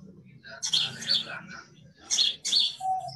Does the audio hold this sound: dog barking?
no